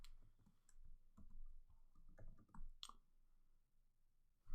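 Quiet clicking keystrokes on a Mac computer keyboard while Python code is typed, irregular taps and short bursts with a few sharper clicks, close and faint with no talking.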